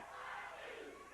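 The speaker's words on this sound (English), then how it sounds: "The crowd's starting to chant, JYD," A wrestling arena crowd chants JYD, a loud, roaring mass of voices rising and swelling over about a second, with no single voice standing out.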